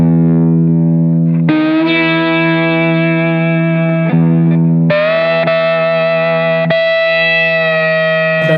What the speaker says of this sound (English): I'll play the 6th string low E open, and I might try to find different E notes on the other strings